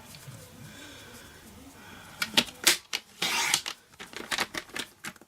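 Cardstock for a trifold card is sliced on a paper trimmer in a quick run of sharp, crisp cutting and clicking strokes after a quiet start, close and distinct.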